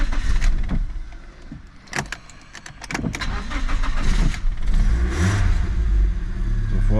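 BMW car engine starting and running, with irregular revs rising and falling over clunks and handling noises, then settling into a steady, close idle rumble.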